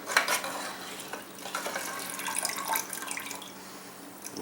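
Cola dripping from soaked AK-47 magazines into a container, a soft irregular patter of drips and trickling liquid with occasional light metallic clinks, close and fairly quiet, no talking.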